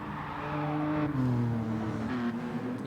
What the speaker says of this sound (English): You hear the tyre squeals.